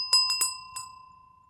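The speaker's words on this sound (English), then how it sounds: "Oh my gosh, this bell is so awesome." A decorative witch's bell, sharp-edged and ornately detailed, rings with four quick metallic strikes followed by a steady sustained ring that slowly fades, clear and close with no talking.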